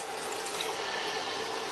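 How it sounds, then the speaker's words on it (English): Hot tap water pours steadily into a pan that was just coming to the boil, a continuous close hiss and splash with no talking. "So I add some hot water."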